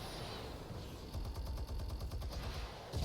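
Rapid gunfire bursts from a video game, a steady run of shots near and loud that stops briefly before a final heavy blast at the end.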